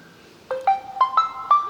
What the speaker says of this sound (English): Here, these are all the system ringtones.